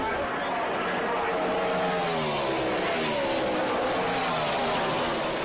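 NASCAR race cars roar past on the track, a continuous loud engine drone with rising and falling pitch from shifting and passing cars, layered under a commentator's talking throughout.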